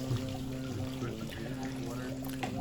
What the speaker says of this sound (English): he's pouring water on my head just to help it make it more bearable